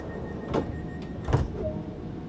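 Train doors closing in Train Sim World 2 on the East Coastway line: a few quiet mechanical hisses and thuds, the strongest near the middle, with faint electrical hum behind.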